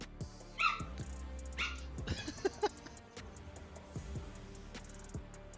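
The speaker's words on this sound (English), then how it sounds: "I'm still not used to having the dog in the background." A dog gives a few quiet yips and short whimpering barks in the background, faint and intermittent against a low steady hum.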